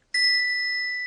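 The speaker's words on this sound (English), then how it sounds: "You hold the bell, and I'll tap it with the pendant." A small bell tapped once with a rose crystal pendant rings out in a clear, bright tone that sustains and slowly fades, heard alone and close.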